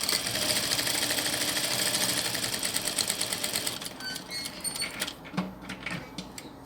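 A sewing machine set to a 1.5 stitch length runs steadily, joining two fabric pieces for a handmade doll, with a dense rapid mechanical chatter for about four seconds before it slows and stops, followed by soft handling clicks.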